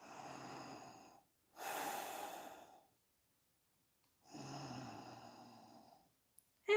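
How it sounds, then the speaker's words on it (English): Slow, audible breaths drawn in and out through the nose during a yoga pose. There are three long, airy breaths separated by silent pauses, heard up close with no talking. "breathe through your nose"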